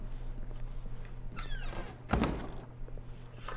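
A door breaks in the video game The Stanley Parable: a sliding scrape is followed by a sharp, heavy thunk, set against a low steady hum, with quieter rustles afterward.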